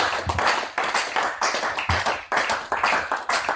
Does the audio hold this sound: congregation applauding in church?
yes